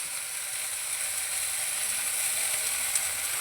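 Garlic fries in a pan with a steady, close hiss of sizzling oil that crackles faintly and continues without a pause.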